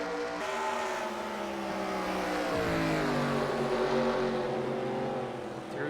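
Race cars running on the Richmond track, engines droning in a continuous close roar whose pitch rises and falls as they jostle bumper to bumper.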